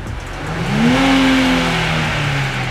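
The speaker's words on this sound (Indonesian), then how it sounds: "Kita coba aja geber sampai red line ya" A new Nissan Fairlady engine revving hard toward the red line: a loud, close rising whine that climbs steadily, holds near the rev limiter, then eases slightly, with no talk.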